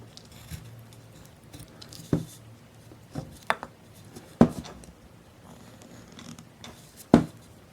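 A knife making stop cuts into carved wood around a Saint Nicholas figure's mustache and beard: sharp, isolated clicks and scrapes, about five distinct cuts spaced irregularly over several seconds, close and crisp with quiet pauses between.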